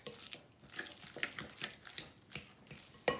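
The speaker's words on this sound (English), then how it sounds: "take my fork and just mix all of this together with the cream cheese" A fork mixing cucumber spread into cream cheese in a bowl makes soft, irregular scraping and clinking taps, close and fairly quiet, with a sharper clink near the end.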